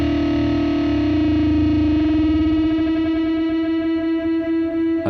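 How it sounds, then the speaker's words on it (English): Two guitar strings sound together as sustained natural harmonics, one at the 7th fret of the A string, ringing close and loud with a slow wavering beat as the pitches are brought toward each other by ear. "Listen to the fluttering and tune up."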